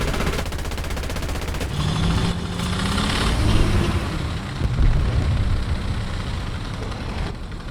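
Tank guns firing in the game War Thunder from a Panzer II tank destroyer, rapid rattling shots over a steady rumbling engine, loud and close, with no talk.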